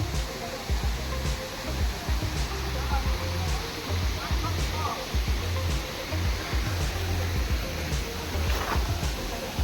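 The Hurnatso waterfall rushes in a steady, dense roar with no break, a constant wash of water under cool, drizzly outdoor conditions, with faint voices now and then.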